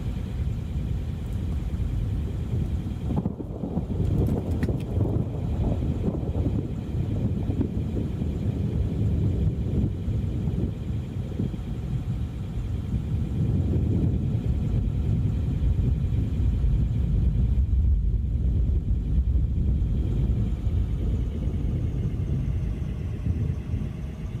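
Roaring tornado wind in the Roblox game Twisted, a loud, continuous low rumbling roar lasting throughout, swelling and easing slightly with no break.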